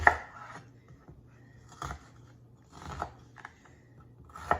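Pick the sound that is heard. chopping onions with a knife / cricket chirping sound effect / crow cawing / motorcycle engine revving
chopping onions with a knife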